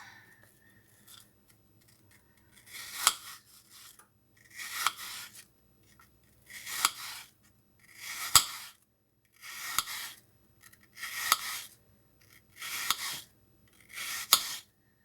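A knife slices through an apple into thin pieces on a board, eight crisp, evenly spaced cutting strokes, close and clear, with quiet pauses between each one.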